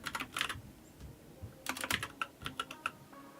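Typing on a computer keyboard to enter commands, in uneven bursts of close, crisp key clicks with brief pauses between the runs, and no talking.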